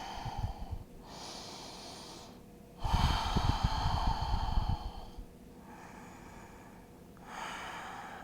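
Deep breathing while holding a twist in a splits flexibility routine, with long airy inhales and heavier, rougher exhales that come in slow cycles, close to the ear, and no talking.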